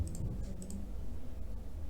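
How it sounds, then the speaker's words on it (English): A few sharp, quiet mouse clicks on a computer, spaced apart over low background hum, with no talking. "Now I will click on save and close button"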